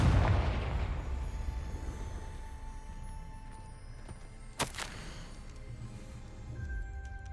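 Confringo fire spell from the video game Hogwarts Legacy bursting in a single sharp, loud explosion midway through, over a steady rumbling game background.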